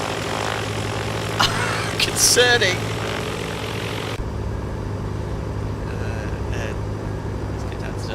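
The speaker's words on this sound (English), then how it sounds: "Good start engine number 2." Piston engine of a Beechcraft Duchess Model 76 starting up in the X-Plane 12 flight simulator, a steady low idle drone with a brief rising whine midway, continuing under a short spoken remark.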